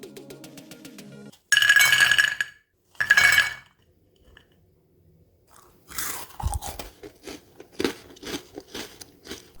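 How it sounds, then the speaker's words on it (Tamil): Crispy fried maida kala kala biscuits crunched close up: two loud crackling bites, then a run of smaller crunchy chews with a few faint clinks between. "இது எவ்வளவு மொறுமொறுன்னு இருக்குன்னு பாருங்கள்"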